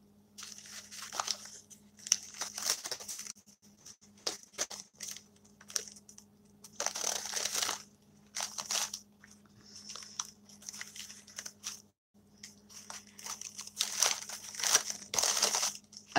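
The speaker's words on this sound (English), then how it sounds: "Let me separate out some more coffee filters." Paper coffee filters being peeled apart by hand, giving intermittent crinkly rustling bursts in short clusters with quiet gaps, close up and fairly soft, with no talking.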